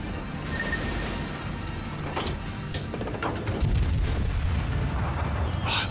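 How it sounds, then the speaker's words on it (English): Naval shell fire in the World of Warships video game: a steady low rumble of distant gun booms with scattered sharp cracks and impacts, continuing throughout at moderate loudness with no talk. "I hear shells all over the place"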